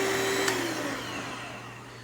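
A CUKAID electric food slicer runs with a steady motor whine and low hum while its blade cuts through a tomato, the tone dipping slightly as it slices, with no talk.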